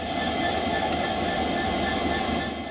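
A train on the railway line at Alipurduar gives a steady, loud rumble and rolling roar from on board, constant and unbroken throughout with no speech.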